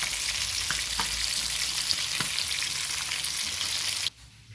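Food fries in a pan in a Jamaican home kitchen with a steady, dense sizzle and occasional soft clicks of stirring, then cuts off abruptly near the end.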